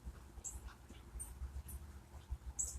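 Dogs out in a backyard pant and whimper faintly, with soft shuffling and scattered small sounds nearby; quiet overall with no talking.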